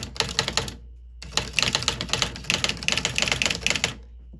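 Keys clack rapidly on an electronic Goodwill typewriter set to typewriter mode, printing each character as it is struck; two close, crisp bursts of typing are separated by a short pause.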